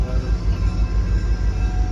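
Steady low rumble and rattle of an excursion train hauled by a diesel locomotive at moderate speed, heard from aboard a railroad car, continuous and fairly loud with no talk.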